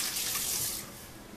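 Tap water running into a sink while hands are rinsed, a steady close hiss of flowing water that eases slightly toward the end.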